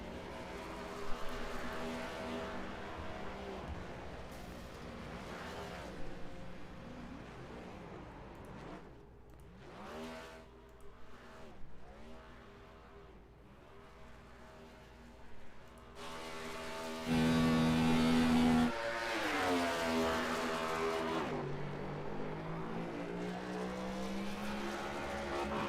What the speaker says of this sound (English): he's going to do a burnout